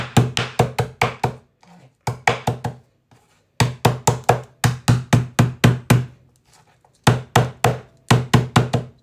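A sharp knife chops through pork belly on a board in quick bursts of firm, rhythmic thwacks, four to six strokes at a time with brief pauses between runs, close and fairly loud.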